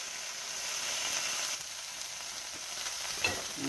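Already-cooked ham warming in a frying pan gives a steady, close sizzle and hiss that runs unbroken, with a faint clink near the end.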